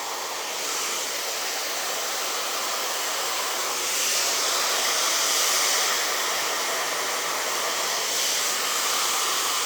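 A hair dryer fitted with a diffuser blows steadily while drying curly hair, giving a loud, continuous broadband whoosh that swells slightly midway and carries on without a break.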